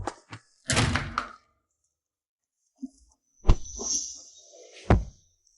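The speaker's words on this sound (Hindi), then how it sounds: "जल्दी दरवाजा खोलो" A door is handled in sharp bursts: a loud bang and rattle, a small knock, then another heavy thud with a creaking scrape and a final slam, separated by silence.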